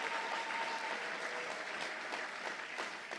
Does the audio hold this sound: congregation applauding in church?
yes